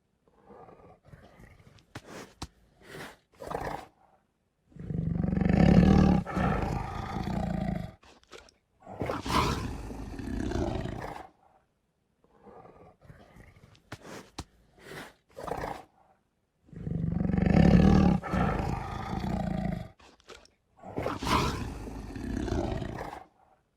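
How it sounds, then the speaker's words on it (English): A Google 3D animated tiger lets out several deep, loud roars in two clusters, each swelling into long rumbling growls with short breathy grunts and quiet gaps between, no speech. "Surprise your kids by placing this 3D tiger next to them."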